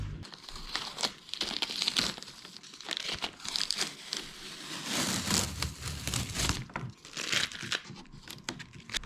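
Masking tape being peeled and crinkled off a Holden HT Monaro grille, close and fairly quiet, with irregular bursts of tearing and crackling.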